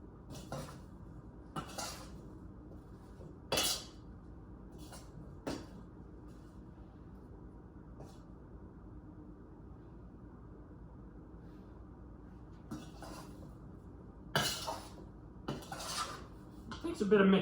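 Blueberry pie filling being mixed in a bowl, giving scattered clinks and scrapes of a utensil against the dish at irregular intervals over a quiet room, with a louder cluster of knocks near the end.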